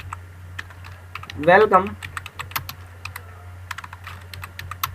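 Keys clatter on a computer keyboard in a quick run of light, sharp taps over a low steady hum, with a brief spoken word partway through.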